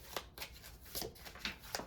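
Tarot cards being shuffled in a few quick, crisp riffle bursts about every quarter second, close and fairly quiet, with no talking.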